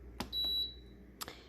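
A single bright electronic beep comes from a pressure cooker's button panel as the beef program is chosen, set between soft clicks of button presses in a quiet kitchen.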